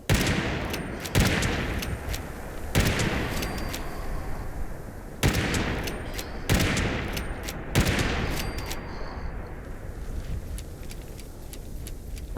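Western Spirit gun fired in Fallout 76, loud sharp reports at uneven intervals, roughly six shots across the stretch, each followed by a long fading echo, with no talking.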